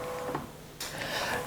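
A Canon PRO-300 inkjet printer slowly prints a borderless A3+ canvas, giving a steady close mechanical whir with faint ticks and a brighter shift in motor noise partway through, with no voices.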